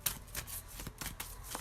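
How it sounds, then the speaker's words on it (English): Tarot cards are pulled from a deck and laid down, with soft rapid riffles and slides in close, quiet bursts. "I'm gonna pull 10 cards."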